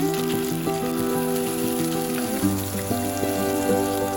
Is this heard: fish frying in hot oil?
yes